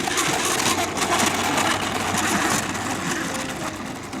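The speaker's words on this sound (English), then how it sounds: "Just don't mind the dumpster rolling down 5 flights of stairs sound, because those wheels are super loud." Rough continuous rumbling and rattling of the landing gear wheels on an Avios C-130 Hercules V2 1600mm RC plane rolling over the ground, loud and close, with steady motor whir layered underneath.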